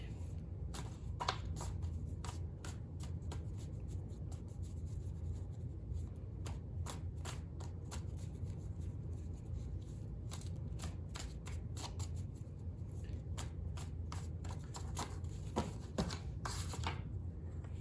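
Tarot cards are shuffled by hand in a quiet room, a run of soft, crisp riffling flicks repeating in irregular bursts over a low background hum.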